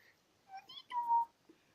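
A kitten about ten days old meows close by: a few short, high mews followed by one longer, drawn-out cry, fairly quiet.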